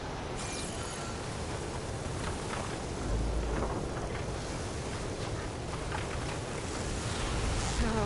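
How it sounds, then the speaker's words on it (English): Storm raging in Horizon Forbidden West, a dense, constant roar of wind and rain with low rumbling surges, loud and unbroken throughout. "Oh, the storm's whipped up a sand spiral."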